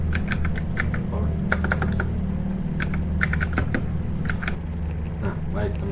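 Keys on a computer keyboard clatter in quick bursts of clicks with short pauses, close and clear, while someone talks over them entering switch port commands.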